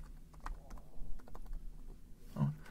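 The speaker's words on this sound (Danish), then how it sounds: "Skal jeg lige taste det her password rigtigt." Someone types a password on a computer keyboard, quick light irregular key clicks up close with brief pauses, ending in a slightly heavier tap.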